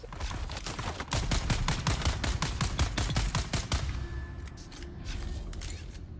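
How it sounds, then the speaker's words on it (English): A Gatling gun in the video game Dune fires a long, rapid, evenly spaced stream of loud shots that stops abruptly, leaving quieter scattered game sounds and a faint tone afterwards. "There's a Gatling gun guy."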